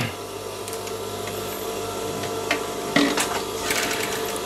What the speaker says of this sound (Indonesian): Jadi kita jahit dulu pas pada garis kantong yang bawah.